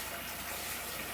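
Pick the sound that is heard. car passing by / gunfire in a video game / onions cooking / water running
water running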